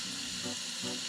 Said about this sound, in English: I'm gonna throw in the shrimp right there and then make sure they're all touching the pan